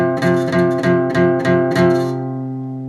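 Guitar plays a two-note dyad at the 8th fret, picked about eight times in a quick even rhythm, then left ringing and fading, close and without talk.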